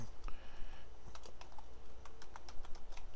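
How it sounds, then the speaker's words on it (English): Computer keyboard typing in quick, irregular bursts of close, crisp clicks, with steady low background hum and no talking. "Then I want to go ahead and type in keyboard"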